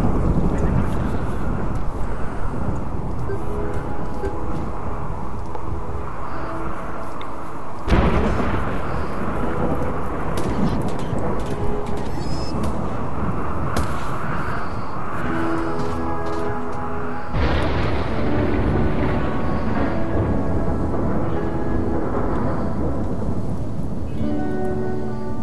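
A thunderstorm in the video game Rimworld: steady heavy rain with deep, rumbling thunder rolling continuously, loud and full throughout.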